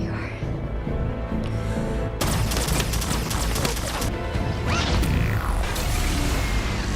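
Sharp bursts of movie gunfire aimed at a shut-off valve, a sudden loud crack followed by repeated impacts and clattering over a dense film soundtrack with rumbling music.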